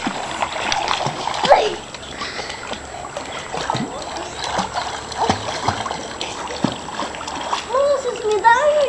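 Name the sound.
splashing water while Igor swims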